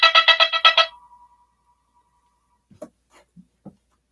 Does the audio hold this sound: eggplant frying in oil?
no